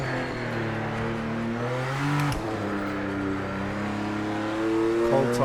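A GT3 race car engine in the video game Project Motor Racing revs loud and up close, its harmonics climbing through gear pulls with a brief lift and shift dip midway, then rising again, with no talking over it.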